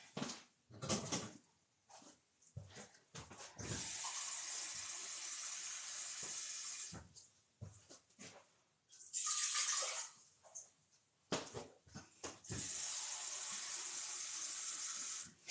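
Water poured for a marinade in several bursts of bright, steady hissing flow, broken by short knocks and handling sounds between pours.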